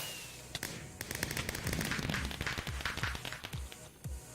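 Fireworks going off in the Minecraft video game during a flight course, a dense, rapid barrage of crackling bangs and pops that swells in the middle and thins out toward the end, with no talking.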